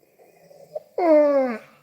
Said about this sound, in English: Oh, excuse me. Gosh, I'm yawning now.